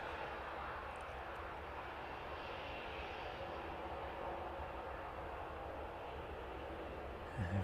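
Jet2 airliner taxiing toward the start of runway 09 at East Midlands Airport on a warm evening, a steady, moderately distant engine rumble and whine holding even throughout, with a brief louder swell at the very end.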